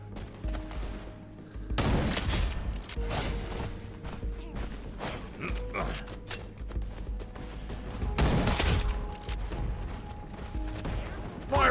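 Gunfire in the multiplayer shooter Wild Assault, with sharp bursts of shots and a couple of loud blasts over steady battle noise, fairly close and continuous.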